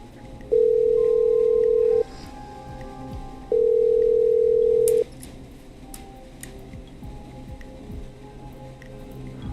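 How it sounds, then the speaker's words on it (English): Telephone dialing in a late-night horror video game: two long steady dial tones, each about a second and a half, separated by a pause, then faint clicks and low room noise with no talk. "Let's dial the trailer park."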